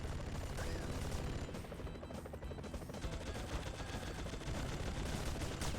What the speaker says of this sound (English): Oh, I just picked up more machine gun.